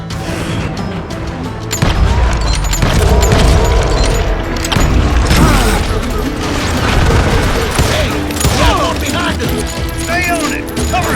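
Covering gunfire in the Western shooter Call of Juarez Gunslinger on Xbox Series: dense bursts of shots and booms keep up almost without a break, loud and close, with shouted voices mixed in.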